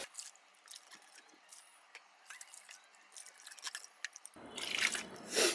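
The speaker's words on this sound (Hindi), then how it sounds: "अब मैं आपको इसको पानी से वॉश करके दिखाती हूँ कि हमारा मग्गा जो है कितनी अच्छी तरीके से क्लीन हुआ है" Water splashes and drips around a plastic mug as it is rinsed clean in a kitchen. Faint drips and small squishy sounds come first, then a louder rush of running water near the end, with no one speaking.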